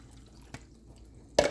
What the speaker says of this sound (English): So I'm gonna add some water.